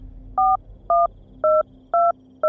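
Five touch-tone phone dialing beeps ring out at an even pace, each a clear two-tone chirp separated by short gaps, with a faint steady hum underneath.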